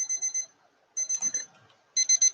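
A reading timer alarm goes off in three short bursts of rapid high electronic beeping, separated by brief pauses, close and fairly loud.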